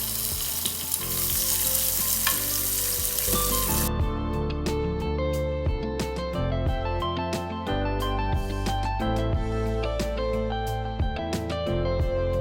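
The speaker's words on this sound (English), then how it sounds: "I actually want to use this to saute the vegetables and all of that before we continue with the cooking" Vegetables sizzle and crackle in hot oil in a pan, a loud steady frying hiss broken by sharp spits and pops, with faint stirring; no one speaks.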